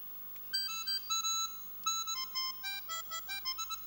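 A smartphone harmonica app plays a string of short, reedy tones, first a few held notes and then a quicker run of bright bursts, heard close with no voice over them.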